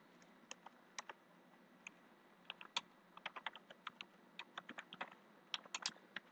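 Rapid keyboard clicks from someone typing out Python code for a number-guessing game, with irregular bursts of keystrokes and short pauses between them, close and fairly quiet, with no voices.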